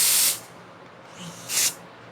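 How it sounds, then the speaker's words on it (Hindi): Two hair spray bottles are sprayed in turn, each giving a short, loud, sharp hiss about a quarter second long, separated by a quieter airy sputter from the used bottle. "इसमें देखिए, इसमें स्प्रे आ रही है, लेकिन इसमें हवा आ रही है"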